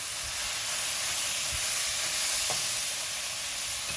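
Munagaaku vepudu, a Kadapa-style Rayalaseema dish of drumstick leaves and toor dal batter, fries in a pan with a steady, close sizzling hiss and faint stirring scrapes, without talking.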